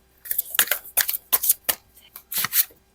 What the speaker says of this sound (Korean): 여러분들을 위한 조언 카드 한 번만 뽑아볼게요